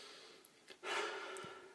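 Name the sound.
short huffing breaths imitating anger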